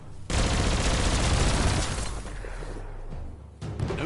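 Rapid gunfire from an enemy weapon in the video game Biomutant, a dense sustained burst of shots lasting several seconds, loud and close, with the barrage thinning briefly before a last flurry.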